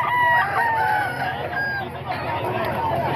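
Sweater-breed gamecock roosters crow and cluck loudly nearby, overlapping one another against a busy background of voices and chatter.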